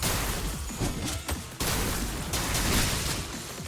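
Rapid gunfire in the video game Limbus Company, a dense, loud, continuous barrage of shots with a brief break in the middle.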